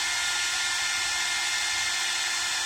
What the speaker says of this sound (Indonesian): apabila kita nyalakan, nah di hair dryer ini kebetulan ada 3 percepatan atau 3 tingkat panas